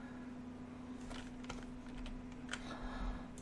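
Computer keyboard typing during a lab software session, a run of light, irregular key clicks that stay soft and close over a steady electrical hum.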